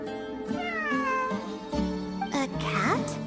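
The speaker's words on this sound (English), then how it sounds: "It really is a cat." A cat meows several times in the Genshin Impact video game, in plaintive, wavering cries that come in a loose series over a soft sustained musical backdrop, with brief in-game sound effects near the end.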